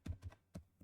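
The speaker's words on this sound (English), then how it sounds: "So I'm just gonna type in here design elements" Keys tapped on a computer keyboard while searching design elements in Canva, a few quiet separate keystrokes in a short burst.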